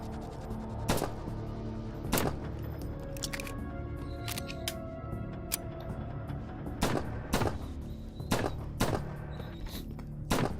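Gunfire rings out in a shoot house inside a VR video game: sharp single shots and short bursts come at irregular intervals over a humming background, moderately loud and close.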